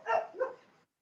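A dog gives two quick barks close by, the first louder and the second following about a third of a second later, with no talk.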